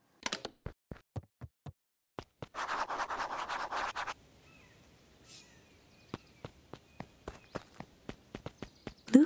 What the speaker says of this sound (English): Luca heard a group of footsteps approaching.